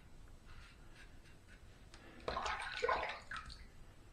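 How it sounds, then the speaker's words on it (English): A Parker 96R safety razor rinsed under running water in a sink between shaving passes, a steady close splashing that swells loudly midway and then eases off, with no talking. "let's just run that in the sink there"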